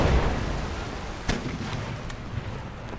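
Chain shot cannon fire in Empire: Total War naval battle: one sharp booming report near the middle over a low rumbling battle bed, with fainter distant pops scattered after it.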